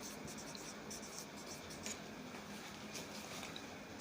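A pen writes a date on paper with soft, close scratching strokes that run continuously in a quiet room, with no one speaking.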